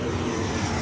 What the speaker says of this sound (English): That plane's very noisy.